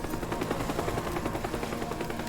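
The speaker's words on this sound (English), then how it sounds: "Oh god, he's firing rockets now." An attacking helicopter in the voxel destruction game Teardown: a dense, rapid, pulsing barrage of chopping and firing, loud and continuous over a short stretch.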